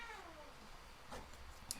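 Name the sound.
Dozer the cat meowing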